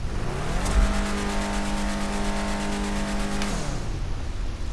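A Declasse Drift Tampa with turbo revs hard in GTA Online, its engine note rising, holding a loud, even drone for a few seconds, then dropping off as the revs fall away.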